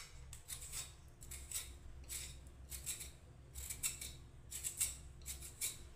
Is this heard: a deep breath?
no